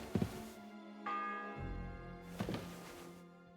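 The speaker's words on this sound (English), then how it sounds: "The 6th bell." A church bell tolls in the medieval world of Kingdom Come Deliverance 2, two deep strikes ringing out about a second apart and fading slowly over low ambient game sound.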